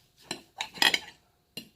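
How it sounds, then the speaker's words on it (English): Knife and fork cutting into a cooked two-inch-thick bone-in pork chop, a few brief metallic clicks and scrapes against a plate, close and fairly quiet with gaps between them. "so let's cut it open"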